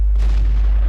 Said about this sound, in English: I end up taking a shot at the KV-1 and taking him out.